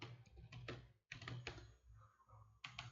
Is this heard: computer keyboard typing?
yes